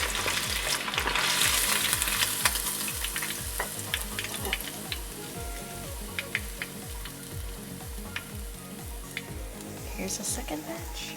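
Myanmar-style fish frying in hot oil, a dense continuous sizzle with steady rhythmic stirring or scraping pulses and scattered sharp pops and crackles, close and loud, with no talk over it.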